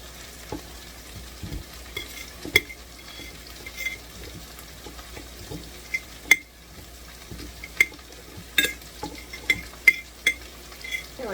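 Bacon and cabbage fry together in a pan with a steady low sizzle, broken by scattered sharp clicks and scrapes of stirring utensils against the pan, close by and without talk.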